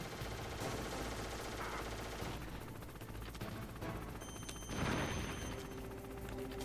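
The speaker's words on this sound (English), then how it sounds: "He keeps the gun going." Sustained machine-gun fire from the video game Metal Gear Solid, a dense continuous rattle held for several seconds with a heavier burst near the end, set against game ambience and effects.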